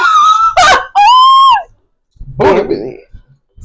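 A goose-style honking effect sounds in a few loud, nasal, drawn-out honks close up, followed by a short burst of talking.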